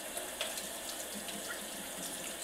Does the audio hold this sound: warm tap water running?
yes